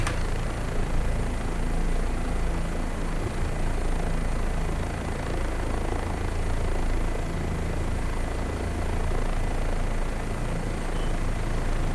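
An OH-58D Kiowa helicopter in a flight simulator game drones steadily with loud, continuous rotor and engine noise throughout, with no talk over it.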